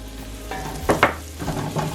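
Flour being stirred into sautéed vegetables and hot oil in a pan for a venison pot pie, a soft sizzle with two scraping stirs in the middle and a few lighter ones after, close and alone.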